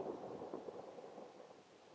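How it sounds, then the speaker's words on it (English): Thunder in the indie PSX-style survival horror game The Fear Business, a soft, distant, rumbling roll that lingers steadily and fades slightly without any voices. "Was that thunder?"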